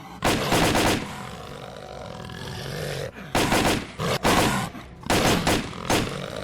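Gunfire in the shooter S.T.A.L.K.E.R. Call of Pripyat: three loud bursts of rapid automatic fire, each a second or so long, separated by quieter stretches of background game noise, close and with no talking.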